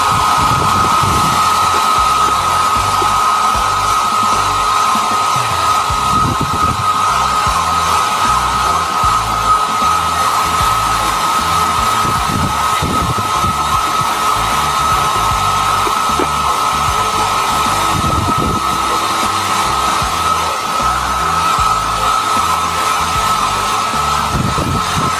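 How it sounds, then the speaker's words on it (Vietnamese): A hair dryer blowing steadily on a freshly cleaned electronics circuit board, a loud continuous whirring hiss with a constant high whine that runs unbroken throughout, with no talking. "Các bạn dùng máy sấy tóc để sấy các bạn nhé."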